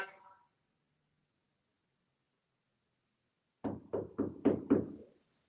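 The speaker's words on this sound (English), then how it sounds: "Knock." Five quick knocks sound in close succession, crisp and fairly loud against an otherwise silent room, after a faint brief noise at the start.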